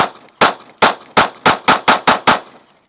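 Glock 43X pistol fitted with a Radian Ramjet firing eight loud, sharp shots in quick succession, evenly spaced and close by, each followed by a short ringing decay.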